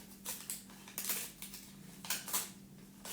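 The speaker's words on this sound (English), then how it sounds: "I'm just literally cut this away" Scissors trim away excess paper in a series of soft, quiet snips and rustles that arrive in small clusters over a low steady hum, with no one talking.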